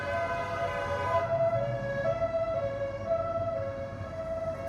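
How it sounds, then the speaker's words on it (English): A police siren wails on a busy London street in Putney, its steady tones holding at moderate distance over traffic rumble before fading slightly as it passes, no one speaking. "siren's about to go past us"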